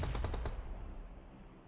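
Rapid bursts of sniper gunfire in PUBG Mobile during a UK & Ireland tournament match, several sharp shots in quick succession, then a fading tail with no voices.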